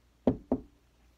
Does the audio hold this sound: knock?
yes